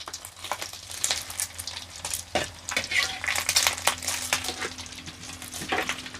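Eggs fry in a pan with a busy crackling sizzle, broken by irregular scrapes and clinks of a utensil stirring against the pan.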